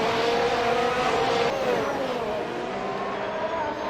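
Race cars in Assetto Corsa at a 2018 F1 Australian Grand Prix championship, a loud continuous high engine whine shifting pitch as a train of cars drives on.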